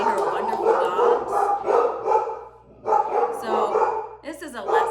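Dogs bark and yip in quick, loud bursts with a few whimpers, tangled with a voice talking throughout.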